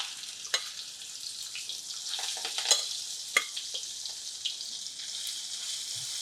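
Capsicum masala stuffing stirred and sautéed in hot oil in a pan, a steady soft sizzle with scattered scraping clicks of a spoon, close and continuous with no voices.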